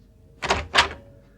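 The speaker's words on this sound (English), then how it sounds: "I was aroused out of the dreamless by the sound of the door opening" Door opening as a radio drama effect, two close, muffled thumping clunks in quick succession in an otherwise quiet room.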